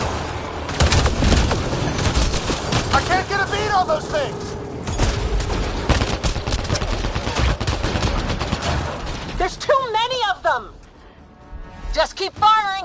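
Heavy gunfire in a Mass Effect: Andromeda firefight, rapid shots and bursts hammering almost continuously, close and loud, with characters shouting over the shooting and a few bright electronic warbles near the end.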